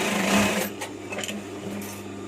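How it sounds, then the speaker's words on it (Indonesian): An overlock serger runs along a batik shirt sleeve, a fast mechanical whir that starts strong, then eases into a quieter, steady hum with small irregular knocks, nearby and without speech. "Lanjut kita obras untuk lengannya ya"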